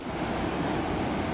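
A mountain river flows down from Hemkund past a landslide along a trekking trail, a steady close roar of rushing water with broadband hiss and no voices.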